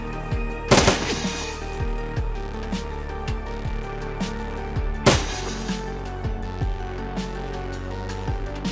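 Burst-shot gunfire in the video game Shadowrun Dragonfall, rapid repeated shots over a droning game soundtrack, with two louder impacts standing out.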